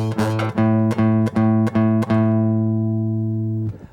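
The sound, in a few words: guitar note played fretting towards the front of the fret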